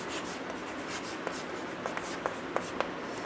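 Pen or chalk strokes scratch in short bursts during a Class 10 maths lesson on linear equations, a few sharp taps near the end, quiet against a soft background hiss.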